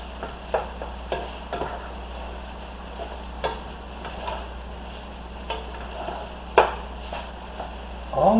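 Fried rice stirred around an oiled pan, soft sizzling under scattered scraping and clanking strokes of a utensil, one louder knock near the end, close and fairly quiet.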